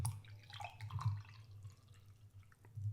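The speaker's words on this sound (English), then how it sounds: "disrespectfully pouring coffee nice and loud" Coffee is poured into a cup in a quiet room, a liquid trickle with small splashy drips over a few seconds and no one talking.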